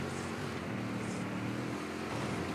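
A truck engine drones unevenly in an off-road Baja racing game, a continuous rough, buzzing motor with a slightly wavering pitch, heard alone and close up for a few seconds.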